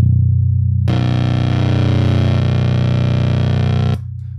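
The low B string of a five-string bass runs through a Rogue Sound Savage Henry fuzz pedal, giving a thick, buzzing, heavily distorted drone that holds for about three seconds and then cuts off, loud and close.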